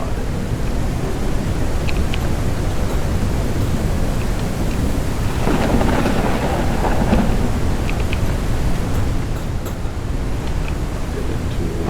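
Steady thunderstorm in the game Forever Skies, a constant wash of rain and wind with a low rumble of thunder swelling near the middle, no voices.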